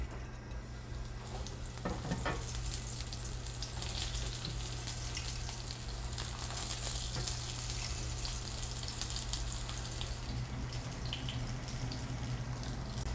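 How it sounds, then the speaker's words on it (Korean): Eggplant sizzles steadily as it fries in a pan over medium heat, a constant close hiss with crackling pops scattered throughout. "가지를 구우실 때 이렇게 약간 튀겨지듯이 톡톡 튀는 소리가 나야 정상이고요"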